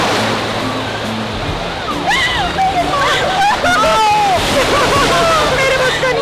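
Ocean surf washing onto Woodbine beach, a steady broad rush of waves with sloshing water, while people talk and call out loudly over it throughout.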